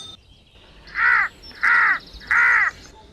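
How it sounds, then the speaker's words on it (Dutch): A tame crow in a fairy-tale video game caws three times, evenly spaced harsh calls, loud and close, over quiet background with no talk. "Krakeeltje, de tamme kraai, zenuwachtig te kraaien"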